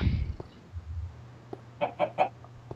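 A Minecraft chicken clucks in a private multiplayer server, giving a few short, clipped clucks near the end over a low game hum, following a brief sound at the start.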